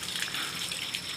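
Water gushes in a steady, loud, broadband rush in an outdoor village setting, flowing and dropping continuously without pause.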